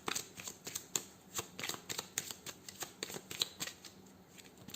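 Cards of a 32-card deck being shuffled for a tarot reading, a steady run of quick papery riffles and flicks close up, with no talk.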